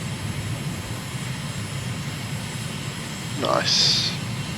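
A fixed-wing airplane engine drones steadily in Microsoft Flight Simulator, a constant mid-level hum that swells briefly toward the end, with a short electronic tone layered over it.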